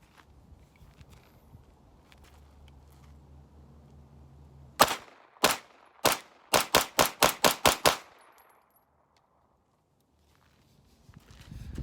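SIG Sauer P320 pistol fitted with an Armory Craft compensator fired outdoors: two spaced shots, then a fast string of seven sharp, loud reports, followed by quiet.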